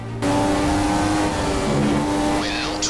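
Formula 1 racing car engines in the video game F1 2015 during a race at Malaysia, a loud sustained high-pitched engine drone with other cars close by and a brief tyre squeal near the end.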